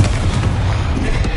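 The Confringo explosion spell from Hogwarts Legacy lands as a loud, rumbling blast, a dense booming roar of fire and debris that fills the short moment without letup.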